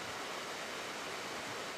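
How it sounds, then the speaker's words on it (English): A creek near the Britannia mine site flows in a steady, dense rush of water, continuous and fairly loud with no other sounds. "This creek near the mine site is pristine"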